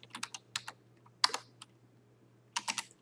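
Quick bursts of typing on a computer keyboard, close and crisp, in short clusters of keystrokes with brief pauses between, over a low steady hum.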